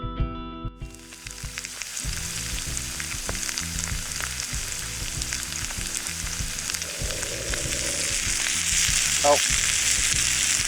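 Steak and potatoes sizzle and fry in a pan at a winter camp, a steady loud crackle running throughout with clinks of a utensil stirring; a brief spoken word comes near the start.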